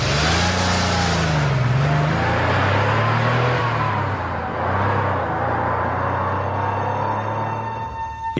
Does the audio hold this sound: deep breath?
no